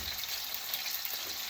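Steak frying in a pan gives a steady, close sizzle of hissing crackle that holds unbroken, with no talk over it.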